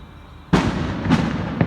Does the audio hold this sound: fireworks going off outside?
yes